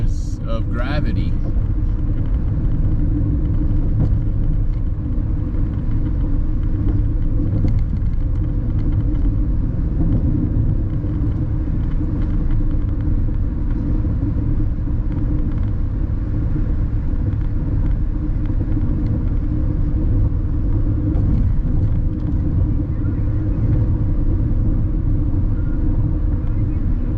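Steady low rumble of a car cruising at 80 miles an hour on a Colorado road trip, a continuous drone with wind noise, unbroken and fairly loud throughout.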